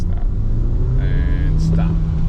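Car accelerating to 20 mph on a Florida driving test course, a close steady engine rumble rising slightly in pitch over a couple of seconds, with faint voices in the background.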